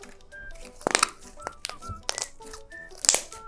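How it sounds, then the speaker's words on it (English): A slime balloon, blown up through the end of a straw, bursts with a scatter of sharp, crackly pops and crinkling snaps spread over a few seconds at close range. "It's got all those satisfying pops afterwards."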